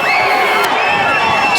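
A large crowd at a 2007 high school football state group final, Glassboro against Paulsboro, cheering and whooping loudly in a steady, dense roar from the stands.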